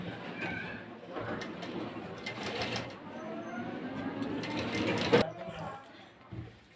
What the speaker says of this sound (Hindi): अब इस पर हम मशीन चलाकर सिल देंगे